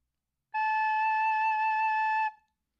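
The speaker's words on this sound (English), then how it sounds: "The next note is A. To play an A," A recorder sounds one held A note, a clean, steady flute-like tone lasting just under two seconds that starts crisply and fades quickly, with nothing else audible around it.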